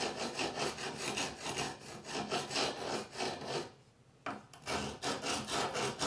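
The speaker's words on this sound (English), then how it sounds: "I'm gonna actually take a different stone, like 100 grit, and I'm gonna try to just grind that off a little bit" A Kershaw Launch 13 knife edge is ground on a 100 grit stone in rhythmic back-and-forth strokes, giving a close, raspy scraping that pulses steadily, pauses briefly and then resumes.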